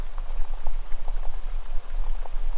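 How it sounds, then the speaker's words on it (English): Water babbling steadily along a stream, a continuous bright gurgle with small splashes rising and falling, close and fairly loud, with no voices. "And as you listen to the babbling water"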